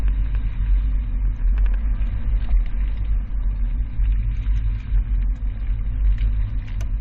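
A 2018 Ram 1500 pickup carrying a Yakima RidgeBack bike rack weaves through a slalom course, its engine giving a steady close low rumble with faint rattles on top.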